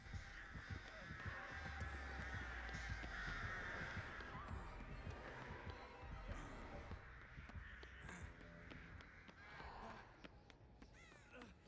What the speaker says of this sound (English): Yeah, there go the birds.